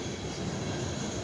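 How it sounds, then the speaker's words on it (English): Freight train of coal cars rolling past, a brief dense rumble and rattle of wheels on rails, close and steady. "Coal cars headed for Chattanooga or South Vicksburg, I suppose."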